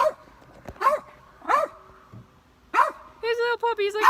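Cody, a small puppy, lets out a few sharp, close barks spaced irregularly, and a person starts talking right after the last one.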